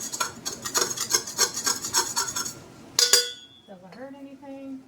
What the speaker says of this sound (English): These little baking spatulas work really well. You can scrape it off the bowl.